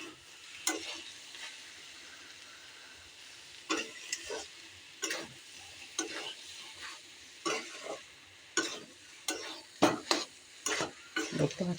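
Banana stem (thor) cooking in a pan, a low hiss of frying with a series of sharp spatula scrapes and knocks against the pan that grow more frequent toward the end, no talk.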